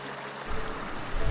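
The Akash Ganga stream flowing through Tapovan meadow on the Gomukh trek, a steady broadband rush of water that swells louder after a quiet start.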